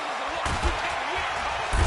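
In a Madden football video game, a defender's sack tackle lands with dull, heavy thumps over a dense wash of stadium crowd noise, loud and busy throughout.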